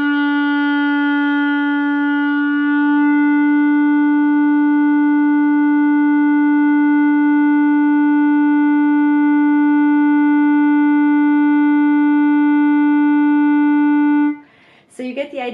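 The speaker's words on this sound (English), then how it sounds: "So I'm going to play my E again, and I'm going to start it hopefully out of tune," A sustained E note held steadily for about fourteen seconds into a Tonal Energy tuner app, a pure, strong tone rich in harmonics, ending abruptly with a brief clatter.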